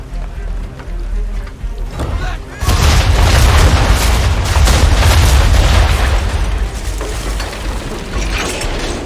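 Ship cannon fire in Assassin's Creed III, a heavy booming blast at about the three-second mark followed by a sustained loud rumbling roar of broadside fire and battle noise, with sea and ambient mechanical sounds before it.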